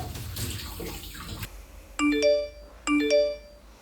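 Cold shower water gushing from the tap as a loud, steady rush for about a second and a half, then cutting off, followed by two bright electronic notification chimes in the quiet bathroom.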